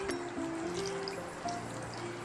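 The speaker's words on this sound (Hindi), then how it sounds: "अब हमने क्या करना है, इसे थोड़ा सा पानी डालेंगे।" Water poured from a cup into a pan of guar beans and potatoes, a soft, close trickle and light dribbling with faint splashes over a low kitchen hum, with no speech.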